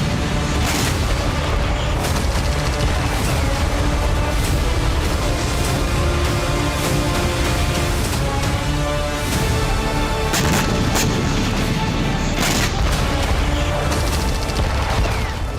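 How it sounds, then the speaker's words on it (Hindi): Anti-ship missile strike by Houthi forces on a vessel, rendered as a continuous, loud barrage of booms and crackling bursts without pause. "यमन के हूती नियंत्रित शहर हुदैदाह से एंटी शिप मिसाइल हमला किया गया"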